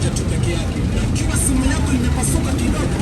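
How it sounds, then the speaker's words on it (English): Dense road traffic noise on a busy roadway, a steady low rumble of engines and vehicles close by, with a voice talking over it. "As you can see, so much traffic."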